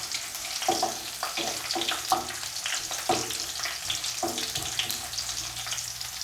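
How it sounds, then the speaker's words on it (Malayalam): Dried red chillies and garlic fry in hot oil, giving a steady crackling sizzle with brisk, repeated stirring and scraping clinks from a utensil against the pan. "നമ്മുടെ വറ്റൽമുളകും വെളുത്തുള്ളിയെല്ലാം നന്നായിട്ട് ഫ്രൈ ആയിട്ട് വന്നിട്ടുണ്ട്"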